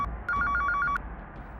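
A telephone rings unanswered, a short burst of rapid electronic trilling pulses, clear and close, with no one picking up and no voices.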